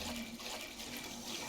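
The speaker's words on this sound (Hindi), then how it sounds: "अबे ये क्या पानी है?" Splashing water in the horror video game Granny 3, a steady faint wash of water that continues throughout without talk.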